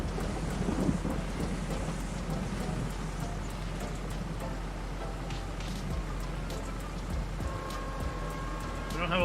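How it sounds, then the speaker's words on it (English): Steady rain with rumbling thunder in Farming Simulator 22, a continuous dense wash across the whole stretch, with faint clip-clop or tapping sounds mixed in and a tonal game sound near the end. "Oh, the storm."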